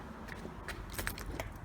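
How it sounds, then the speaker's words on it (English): Faint jingling of keys for a Volvo 850 T-5R being rummaged through, a few light metallic clinks scattered over a quiet background with no talking. "Let's see if we can find the keys."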